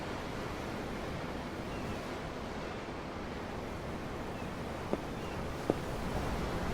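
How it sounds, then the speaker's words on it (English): Ocean waves in Tales of Arise wash in a continuous, broadband roar with no distinct breaks between swells, broken only by two faint clicks near the end. "I'm looking at the ocean."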